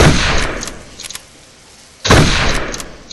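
Two loud, sharp rifle shots fired in the Darkest of Days game during training, the first one opening the clip. The second comes about two seconds later, and each blast trails into a decaying rumble with no talking.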